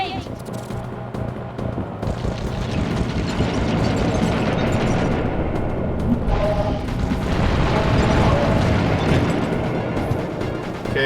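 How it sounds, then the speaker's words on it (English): Missile explosions from a Sly Cooper boss fight in a video game, heard as dense, loud booms and bursts over continuous clanking mechanical game sounds that fill the whole stretch. "My missiles don't hurt him, but seem to create holes in his armor."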